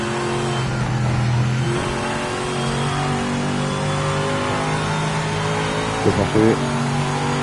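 A GT race car in the Project Motor Racing video game, driven without assists, holds a steady, loud engine drone with sustained harmonic whine and a brief rev change near the end, while someone speaks briefly in French.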